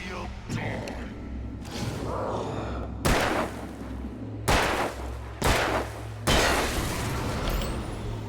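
Repeated heavy gunshots and booms ring out in a boss fight in the video game Alan Wake, several loud broadband blasts spaced a second or so apart over a steady rumbling game soundtrack, with voice chatter underneath.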